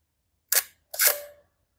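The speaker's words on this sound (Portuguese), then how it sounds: "Esse é o obturador, ele está um pouco lento." An SLR camera's shutter fires at a slow speed, giving two distinct mechanical clicks about half a second apart, open then close, close and clear with no talking.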